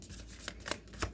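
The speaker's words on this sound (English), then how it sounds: "One more shuffle." Tarot cards being shuffled by hand, a quick run of crisp riffling bursts close to the microphone with no talking.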